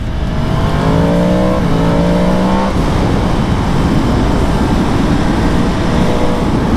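A 2022 Yamaha MT-10 motorcycle engine revs loud and close while riding, pitch climbing through a gear, dropping at a shift, climbing again, then settling into a steady roar with heavy wind rush.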